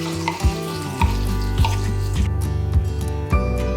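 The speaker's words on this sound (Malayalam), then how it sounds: "നല്ലതുപോലെ ഒന്ന് വഴറ്റിയതിന് ശേഷം അരച്ചു വെച്ചിരിക്കുന്ന തക്കാളി പേസ്റ്റ് ചേർത്ത് കൊടുക്കുകയാണ്." Tomato paste sautéing in hot oil for an instant tomato pickle, a steady loud sizzle broken by repeated stirring scrapes and bursts, with no talking.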